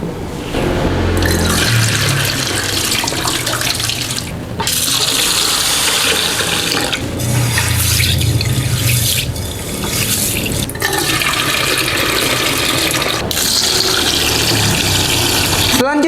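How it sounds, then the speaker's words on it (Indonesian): Mung beans being washed under running water, a loud continuous rush and splash of water with sloshing swells throughout. "Pastikan kita cuci kacang hijaunya hingga benar-benar bersih."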